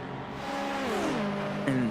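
GT3 race cars at Road America rev through the gears, their engine pitch climbing and sagging. One car's tone drops as it sweeps past, and a sharper rev cuts in near the end.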